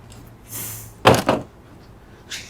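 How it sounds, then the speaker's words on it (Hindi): A door swings shut with a solid double thud, the main impact followed quickly by a rattle, heard close and loud in a quiet room with faint rustling before and after; no one speaks over it. "दरवाजा बंद कर, अंदर आ जा।"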